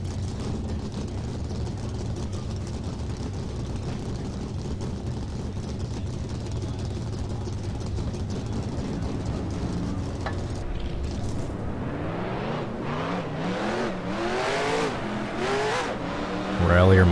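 Race car engines from the video game NASCAR Racing 2003 drone steadily for a long stretch, then rise into sweeping, overlapping revs near the end, loud and continuous.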